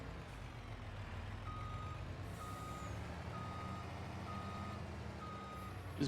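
Steady reversing beeps from a truck in Farming Simulator 25, a regular series of evenly spaced tones repeating over a continuous low engine rumble at moderate loudness.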